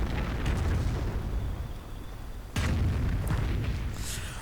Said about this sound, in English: More rockets flying.